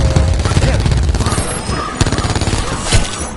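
Rapid gunfire in Call of Duty Black Ops 4 Zombies, Voyage of Despair map, loud bursts of automatic shots and impacts crowding together with game voices talking over the clatter.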